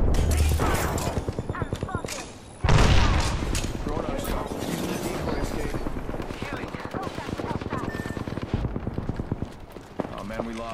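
Rapid automatic gunfire in the battle-royale shooter Apex Legends, loud bursts of shots rattling through much of the stretch, with a player talking over the action.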